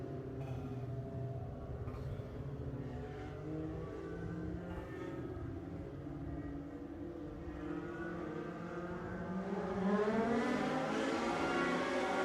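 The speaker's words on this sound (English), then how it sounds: "these Legends cars will get wound up and get things started for their first of 6 laps around this 3/8-mile oval here at Lucas Oil Speedway" Legends race cars at the start of a race on a 3/8-mile oval at Lucas Oil Speedway, a pack of engines droning together and then revving up sharply near the end, loud and steady.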